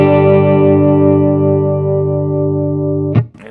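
An electric guitar played with a clean tone through a Strymon Timeline or Empress Echosystem delay pedal rings out as one sustained, slowly fading chord, then a brief scratchy pick noise at the end.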